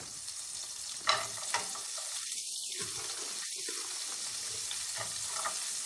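Food sizzles steadily in bacon grease on a stovetop burner for an omelette, a broadband hiss with a few soft clinks near the start and two brief low dips in the middle.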